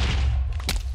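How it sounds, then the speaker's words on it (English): A cannon blows up in the Technic Trials game with a deep, rumbling boom and a short crackling burst near the end of a brief moment. "unfortunately blew up the cannon"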